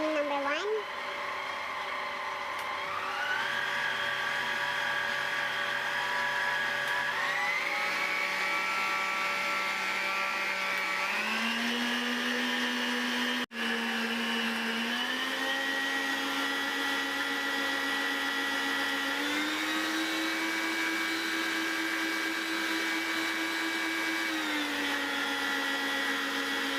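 A Kyowa stand mixer runs continuously with a steady motor whine that shifts pitch in steps as the speed changes, loud and close throughout, with no voices.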